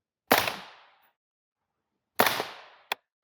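Two suppressed rifle shots from an M16A1 fitted with a Saker 7.62 suppressor, fired outdoors into dirt and at a steel target: each a sharp muffled crack with a short decaying tail, followed by a faint ping about a second later.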